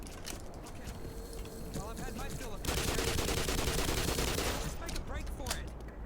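Rapid bursts of automatic gunfire from a machine gun in the Black Mesa game, loud and dense in the second half after scattered earlier shots, with faint game sounds beneath.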